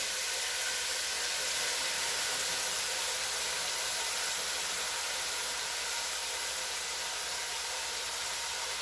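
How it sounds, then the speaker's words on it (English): Spinach sizzles in a pan on the stove while making Greek spanakopita, a steady, even hiss with no talking. "I'm going to add the spinach."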